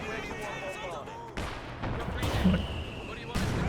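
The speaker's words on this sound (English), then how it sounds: "Oh, that was the British mortar." British mortar fire in the video game Company of Heroes 2, with several sharp blasts and thumps punctuating continuous battlefield noise.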